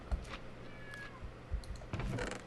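A cat meows in Minecraft hardcore survival mode, giving a short, faint cry over a steady low game background with a few soft clicks.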